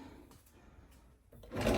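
A bathroom drawer sliding and bumping shut, a soft wooden rub that swells into a louder closing thud at the end, heard alone in a quiet room.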